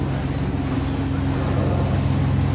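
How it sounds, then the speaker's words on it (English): A Disneyland paddle wheel steamboat driven by a real steam engine, a steady low churning rumble mixed with wind and water wash, continuous and fairly loud with no talk. "This is a real paddle wheel. It's a real steam engine."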